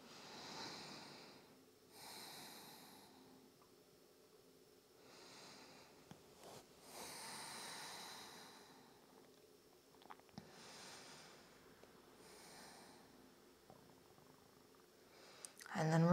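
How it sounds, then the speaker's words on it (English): Slow, deliberate breathing held during a hip-opening yin yoga pose, several soft, evenly spaced inhales and exhales, quiet and close, with no talking. "Let's take 5 more breaths here."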